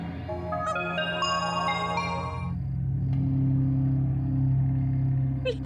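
A mobile phone rings late at night with a bright melodic tone for a few seconds, then stops, leaving a low steady rumble behind.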